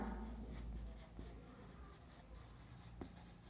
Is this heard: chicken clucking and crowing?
no